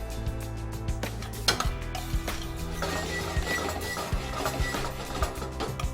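A pan holding chicken marsala sauce and melting cold butter is shaken and swirled on the stove, giving repeated metallic knocks, clinks and scrapes against a low hum, close and fairly loud, with no talking.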